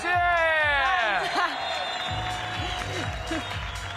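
Crowd at the WRC Rally Islas Canarias 2025 opening ceremony applauding and cheering, a broad wash of clapping and whoops with a rising whistle-like tone early on, while an announcer talks over it.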